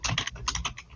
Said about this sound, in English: Just wondering who's typing